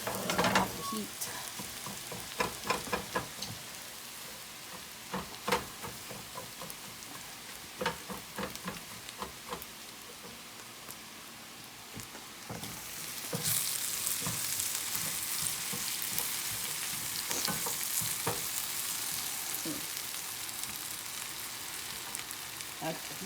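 Scrambled eggs sizzle and fry steadily in a pan, with repeated sharp scrapes and taps of a utensil chopping them into pieces, the frying growing louder and brighter partway through.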